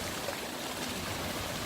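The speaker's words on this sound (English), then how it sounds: "See the little waterfalls up there?" Small waterfalls spilling over rocks outdoors, a steady soft rushing and trickling of water, faint and continuous with no talking.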